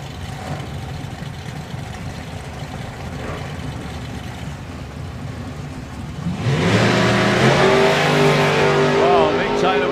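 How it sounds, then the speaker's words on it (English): A drag racing car roars off the line in a wheels-up launch at Santa Pod Raceway, its engine noise jumping to a loud, sustained rising howl after a stretch of crowd and engine rumble, with a commentator talking over it. "Mick Taylor with a good wheels up launch and a big wobble around about 330"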